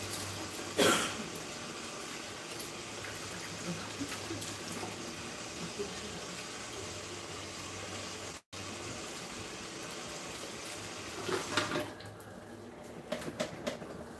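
Water runs steadily at a salon sink while hair is rinsed, a continuous close splashing hiss lasting throughout with a brief interruption partway, and a few louder splashes near the end.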